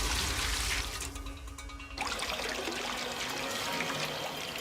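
Water gushes into a container in Zero Escape: Virtue's Last Reward as a loud, continuous rushing pour, briefly easing for a moment before surging again, with no talk.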